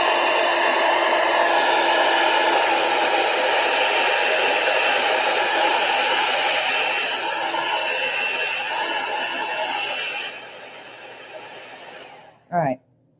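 A hair dryer blows steadily and close by for about ten seconds while drying a wet watercolor painting of a calla lily, then switches off and fades, ending with a short thump.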